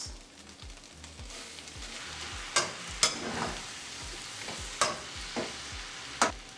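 Noodles stir-fried with vegetables and olive oil in a pan for a vegan stir fry: a steady close sizzle with intermittent sharp scrapes and knocks of a utensil, no talking.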